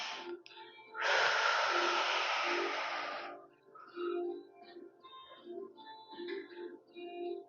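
A long, loud deep inhale lasting about two seconds during a Pilates class, followed by softer background speech.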